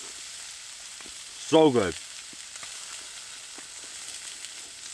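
Four pork chops sizzling in a pan on a stove inside a wood-heated winter camping tent, a steady soft frying hiss with a brief spoken comment over it.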